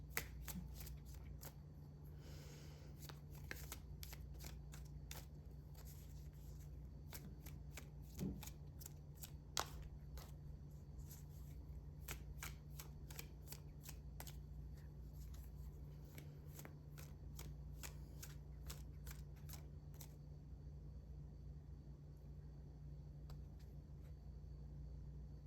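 Tarot cards are shuffled in repeated crisp riffles and flicks, close and fairly quiet, over a low steady background hum.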